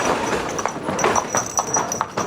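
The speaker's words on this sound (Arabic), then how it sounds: "حنطور تاني جاي اهو" A horse pulling a carriage along a street, its hooves clip-clopping in a steady, close, fairly loud rhythm with no speech over it.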